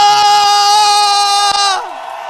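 A crowd at a New Year's Eve church service lets out a loud, sustained collective shout that holds steady, then fades as the voices trail off.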